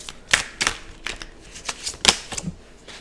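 Tarot cards being shuffled by hand in a series of crisp riffling bursts, with a few quick slaps and flutters spread across the moment, close and fairly loud with no talking.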